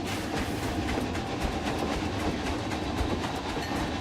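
Railroad train running in a theme park video game, a steady rolling rumble with rhythmic clickety-clack of wheels on rails, continuous and fairly loud throughout.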